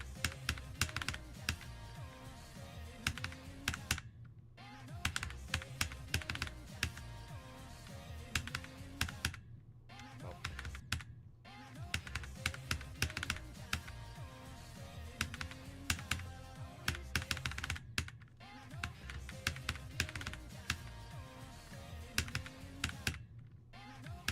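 Rapid mouse or keyboard clicking while playing Geometry Dash, sharp dense clicks in uneven bursts broken by brief pauses, close and dry over faint game music.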